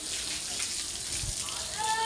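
Tap water runs steadily while someone does the washing, a continuous broadband splashing hiss filling the whole clip at moderate level, with a faint tonal ring near the end.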